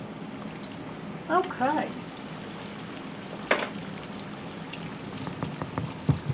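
Pork chops coated in flour with cornstarch fry in a pan with a soft, steady sizzle and scattered pops; a voice speaks briefly.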